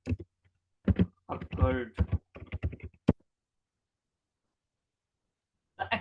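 Computer keyboard keys clacked in short, close bursts of sharp clicks during an English essay lesson, mixed with a man's brief speech, then a long quiet pause before a final flurry of taps.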